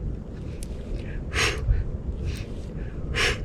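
Deep, slow breaths during a leg-strengthening yoga session, with two or three strong breathy inhales or exhales rising over a steady low background hum.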